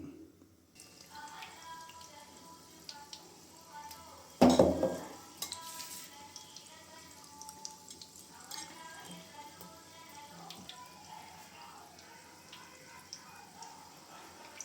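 Batter-coated ridge gourd slices drop into hot oil for bajji, a sharp burst of sizzling that settles into a quieter, steady bubbling fry with light utensil clinks; nobody speaks.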